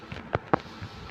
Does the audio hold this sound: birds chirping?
no